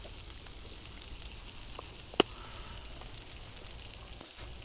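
Mushrooms, tomatoes and an egg fry in a pan on a Trangia 27 stove, a steady low sizzle broken by one sharp pop midway.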